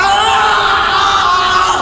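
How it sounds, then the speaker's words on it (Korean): In an anime scene, a loud, sustained scream rings out, a high strained voice holding the cry across the whole moment with no break. "그런데 그때 어디선가 들려오는 비명소리"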